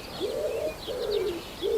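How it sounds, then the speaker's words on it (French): A Eurasian hoopoe on the Île de Ré gives its soft hollow hooting call, three low 'poo' notes spaced evenly and close by, with faint higher chirps from other birds in the background. "la huppe fasciée"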